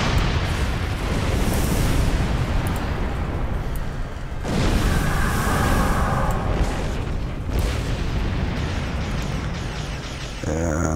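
Plasma torpedoes firing and exploding in a space battle in Star Trek Online, seen from a Xindi-Aquatic Narcine Dreadnought Carrier: loud, dense, continuous rumbling blasts and booms layered over one another with sharp bursts throughout.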